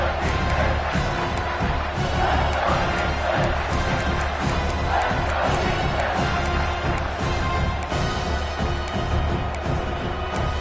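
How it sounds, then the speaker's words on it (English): A large stadium crowd at a college football game, Georgia versus Miami, roars continuously and loudly as the home defense works in the red zone, a dense sustained wall of cheering and shouting. "And the crowd coming to life here, trying to help this defense down in the red zone."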